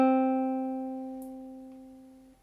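A single guitar note plucked on the second string at the first fret, ringing clean and steady and slowly fading over a couple of seconds, heard alone at moderate volume.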